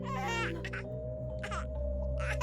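A baby wails in short bursts over a steady low electronic hum, three separate cries spaced a second or so apart, fairly close and clear.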